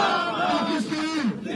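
A crowd at a Pakistani political rally shouting a slogan in unison in reply to a speaker, a loud massed chant of many voices with a rising, sustained call.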